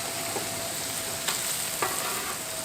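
Smashburger patties sizzle in butter on a Blackstone griddle, a steady close frying hiss with two brief scraping clicks as the spatula works under them.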